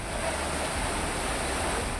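Floodwater of the Mithi river during Mumbai monsoon rains rushes past in a continuous, loud roaring wash of turbulent water, with no voices.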